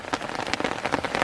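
Steady rain patters densely on surfaces during the rainy season at a chili plot grown in polybags, a close, continuous spatter with no talk.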